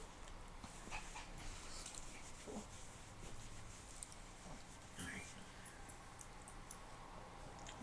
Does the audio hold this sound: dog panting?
yes